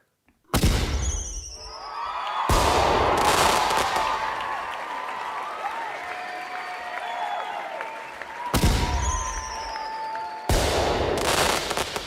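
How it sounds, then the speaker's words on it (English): A fireworks sound effect plays on a live stock market stream: sharp bursts with crackling and whistling, then sustained crackle, followed by a second round of bursts and crackle, all fairly loud with no talk. "Let's give you some fireworks."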